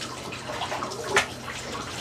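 Water runs steadily down a bathtub drain, carrying food particles, a soft continuous wash with a brief gurgle partway through.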